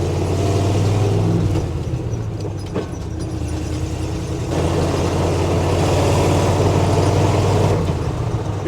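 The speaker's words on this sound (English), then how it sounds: "The old 350 runs a lot better than I thought it was gonna" A 1970 Chevrolet K10 4x4 with a 350 V8 and Quadrajet carburetor driving on the highway, its engine a loud, steady low rumble with road noise and a few shifts in tone as it pulls along.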